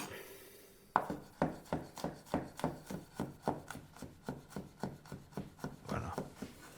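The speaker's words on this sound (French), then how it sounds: "je vais hacher l'ail avec un éminceur" Garlic chopped with a mincer on a board, roughly fourteen quick, evenly spaced close chopping thuds in a steady rhythm after a brief quiet start, with no talk.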